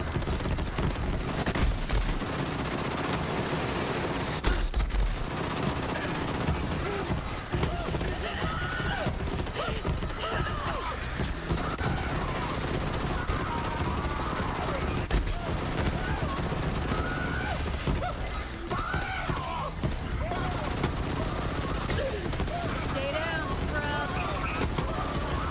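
Rapid, sustained SMG fire from the Troubleshooter submachine gun in Borderlands 3, played as Moze against Captain Traunt, rattles loudly and nearly nonstop over dense battle noise and game effects.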